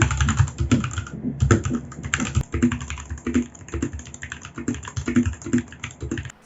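An RK61 mechanical keyboard modded with band-aid, tape and foam is typed on at a steady, close pace, each keystroke giving a muted, rounded thock with no talking.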